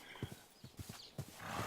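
A horse in a video game clip-clops with a few spaced hoof beats and then gives a short whinny, faint and close.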